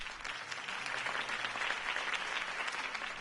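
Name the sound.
applause for a campaign speech in Telltale's Batman video game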